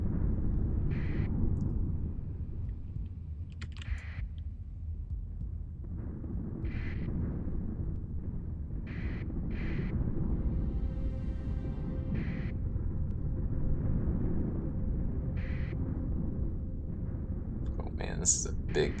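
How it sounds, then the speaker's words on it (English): Hyperspace storms rumble in the space game Starsector, a low continuous rumble with faint crackling flashes running steadily beneath someone talking. "All these hyperspace storms."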